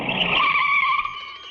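A car's tires squeal loudly in a sustained, close skid as it comes to a stop, the shriek holding steady and then fading slightly at the end.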